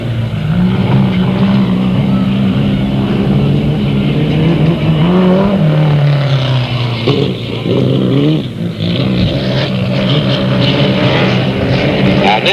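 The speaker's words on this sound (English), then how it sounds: "the number 7, is a 1969 Benson chassis with a Chevy 2 motor being driven by Mike Walton" Number 7 race car, a 1969 Benson chassis with a Chevy 2 motor, running at Delta Speedway, a loud, sustained engine drone with shifting revs heard close up, a track announcer talking over it.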